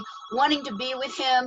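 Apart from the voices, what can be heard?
phone ringing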